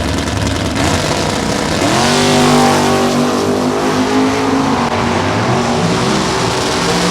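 Drag racing cars roar down the strip at a Summit Racing Series divisional final at Lucas Oil Raceway, loud and sustained, with engine tones rising and sweeping past close by.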